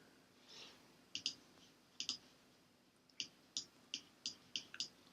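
Crisp mouse clicks on a Facebook page, about a dozen sharp taps arriving singly and in quick pairs, close and quiet over a near-silent room.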